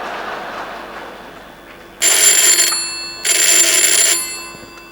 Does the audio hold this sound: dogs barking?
no